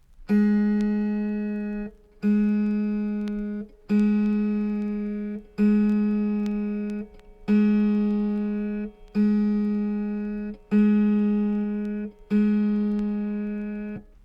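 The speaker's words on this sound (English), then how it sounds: "Place your tuning wrench on the pin marked F sharp in the lower octave and pluck the proper string," The lower-octave F sharp string of an autoharp, seventh from the bottom, is plucked eight times at a steady pace during tuning, each note ringing and decaying before the next.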